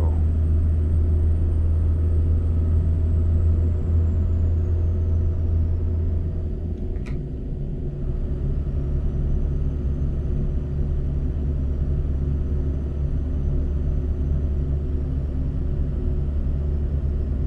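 A custom Scania S truck pulling an HTC double trailer in Finland in Euro Truck Simulator, with a steady, loud low engine drone that holds throughout and a faint whine drifting above it.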